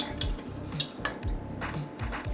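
Spoon stirring mac and cheese sauce in a pan, repeated scraping and clinking strokes at a steady rhythm, close and soft with low background noise.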